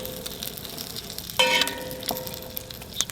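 Bacon sizzles while frying on a camp woodstove, a steady crackling hiss broken by a sharp clink of utensils against the pan and a few softer taps, close and moderately loud.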